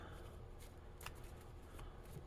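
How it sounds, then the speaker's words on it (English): A deck of cards for a tabletop stock car racing game is shuffled, with a faint, soft steady riffling and a few brief crisp snaps, quiet and close. "I like to give the cards a shuffle"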